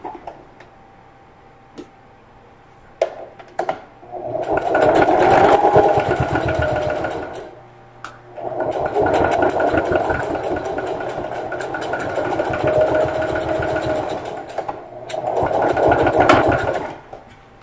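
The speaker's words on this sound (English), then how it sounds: "sew across our gusset to close it up" A sewing machine stitches across the gusset of a lunch tote in three loud whirring bursts of rapid needle pumping, separated by short pauses with faint clicks and fabric handling.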